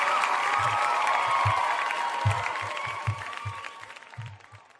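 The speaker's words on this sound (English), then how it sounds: "So we could probably give him a round of applause for that." Applause and cheering from a live audience at a film screening event, a broad wash of clapping with a crowd murmur and bumps of low thuds, steady then gradually fading over several seconds.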